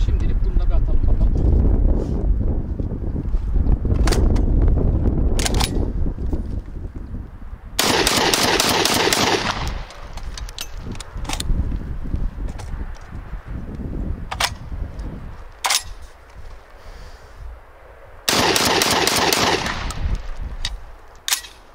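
Serengeti Legion 120 firing test shots with new magazines and springs, heard as two loud, rapid bursts of repeated shots, each lasting about two seconds, set between stretches of talking and outdoor wind noise.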